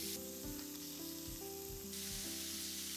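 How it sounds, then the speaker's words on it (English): Pork belly strips laid in a circle in a well-heated pan for okonomiyaki give off a steady, close sizzle, with a sustained tonal hum running underneath. "once the pan is well heated, I put the pork belly first"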